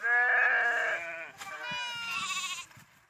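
A flock of sheep, a herd of some 200 to 300 driven for grazing in Pudukkottai, bleats close by in overlapping, drawn-out calls that rise and fall, loud at first and then in a second burst, with no talk.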